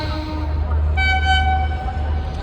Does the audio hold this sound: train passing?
yes